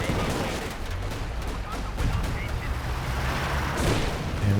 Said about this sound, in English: Getting in close to maximize the damage from the machine gun.